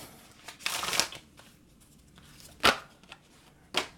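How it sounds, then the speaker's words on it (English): Tarot cards riffled and shuffled by hand, a dense papery flurry up close, followed by two sharp slaps as cards spill out and land on a surface. "those cards fell right out"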